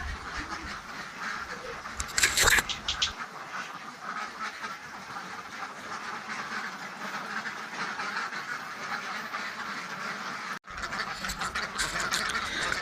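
Ducks in a fully enclosed, intensive duck farm pen keep up a dense, continuous chorus of quacking, with louder bursts now and then.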